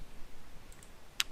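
A single sharp mouse click while working in After Effects, a brief isolated tick against a faint hiss.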